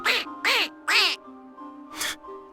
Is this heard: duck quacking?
yes